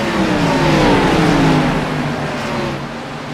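Stock race cars roar into turn 1 in a loud pack, engines droning with falling pitch sweeps as they rush past, the engine noise staying strong and steady throughout.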